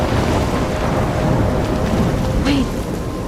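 A video-game thunderstorm in Life Is Strange: steady heavy rain with rolling thunder rumbling low throughout, a brief sharper crack near the end, no voices.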